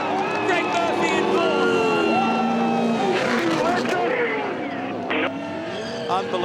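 Supercars race cars at the Bathurst 1000 in difficult conditions, with engine drone and roar mixed under an excited voice talking over the racing.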